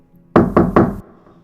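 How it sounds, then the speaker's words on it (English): Three loud, heavy knocks on a back door, evenly spaced in quick succession, close and sharp with a booming wooden thud. "He knocked loudly."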